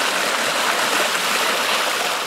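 Polluted Nairobi River flowing through the park, a dense, continuous rushing of water heard close and steady throughout, with no voices.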